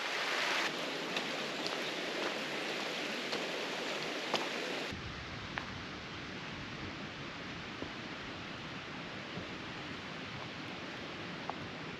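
Heavy rain pounds down outdoors on a Lake District hiking trail, a dense, continuous hiss of drops close by and drumming on nearby surfaces, with occasional louder splats and no talk.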